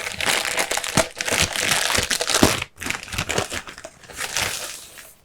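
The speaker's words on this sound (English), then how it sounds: "tear that off." Plastic wrapping being torn off a new laptop, a loud, near, continuous crinkling and ripping that runs in bursts with a brief pause midway, with no talk over it.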